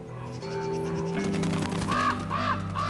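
Ravens calling with harsh, repeated caws over a bison carcass, several loud croaks rising in the second half over a steady low background hum.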